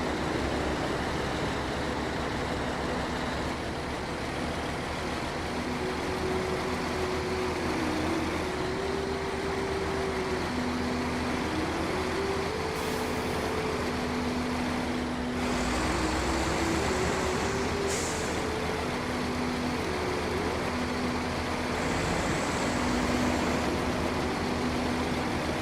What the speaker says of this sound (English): It's just a garbage truck.